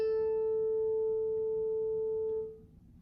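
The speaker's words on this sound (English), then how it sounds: "So now I'm going to go to my A, which should sound like this." A single violin note on the open A string, plucked or bowed during tuning, rings as a steady pure tone that slowly fades out, heard alone in a quiet room.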